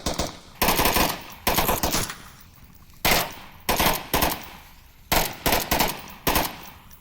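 Bursts of automatic gunfire in the VR shooter Onward, a competitive match: about six loud, sharp volleys of rapid shots separated by brief gaps, close and punchy with no voices.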